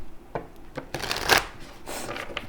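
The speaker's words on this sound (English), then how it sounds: "there's a lot of shuffling here" Tarot cards being shuffled by hand, with quick papery riffles and soft slides of the deck, one louder burst in the middle, close and without speech.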